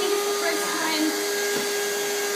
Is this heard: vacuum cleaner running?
yes